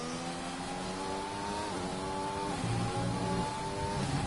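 Race cars out on track at the Australian GP in a Formula racing video game, several engine notes droning and rising together at steady volume, with no one talking.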